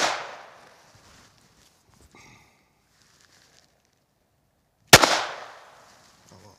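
Two sharp handgun shots from a Ruger American pistol fired at a target on a range, spaced about five seconds apart, each loud crack trailing off into a brief echo, with faint handling noise between.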